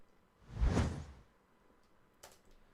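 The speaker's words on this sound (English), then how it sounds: "I have given whooshes over here." A designed whoosh swells and fades in a single smooth sweep, followed by a brief, fainter swish a moment later.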